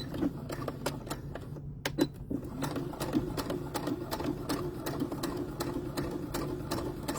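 A sewing machine stitches fabric close to an opening in the seam, running as a steady, close rhythmic whir of needle strokes with a brief pause near the two-second mark, with no talking.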